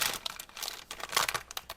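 A plastic bag crinkles as it is opened to check for a separate cap with a needle nozzle for a superglue bottle, in bursts of close, crisp rustling with short pauses and no talk.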